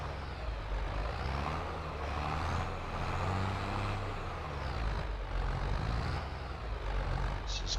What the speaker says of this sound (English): So we park the trailer right in here.